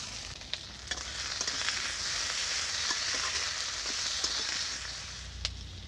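Peas tipped into a hot pan with fried onion and ginger paste sizzle and crackle steadily throughout, a dense close frying hiss with small pops and stirring clicks, no voices.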